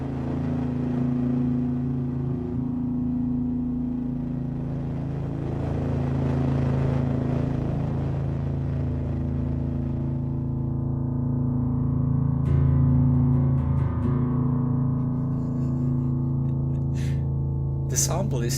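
A single held key from the Ghost Piano sample library sustains as a long, steady tonal drone, its timbre slowly shifting as the mod wheel is moved; a few faint clicks come near the end.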